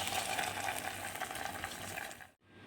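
Hot tempering with asafoetida is poured into a Bengal gram dal curry and crackles with a dense, loud sizzle, then cuts off abruptly before a softer bubbling resumes.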